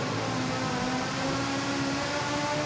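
A vehicle engine at London's New Year's Day parade revs with a steady droning roar, loud and continuous, with a harsh broadband hiss of tyres burning rubber.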